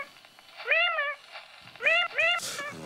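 A cat meows several times in a French film excerpt set in an eerie apartment full of dolls, clear rising-falling cries, one alone and then two in quick succession, over faint background room sound.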